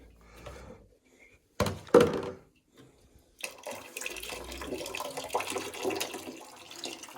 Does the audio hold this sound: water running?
yes